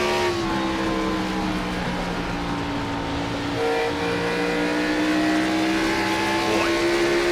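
Race cars roar around the track at the Bass Pro Shops 175, a loud, continuous engine drone with layered pitches that rise and fall as the cars pass, with no talking.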